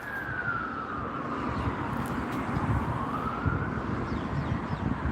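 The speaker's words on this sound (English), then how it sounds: "that's the second ambulance that's driven past in the past 10 minutes or so" An ambulance siren passing by outdoors, its wailing tone sweeping down and then back up, moderately distant under steady wind noise and traffic rumble.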